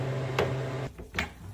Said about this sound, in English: we load up the freeze dryer